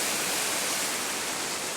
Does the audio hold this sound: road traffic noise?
no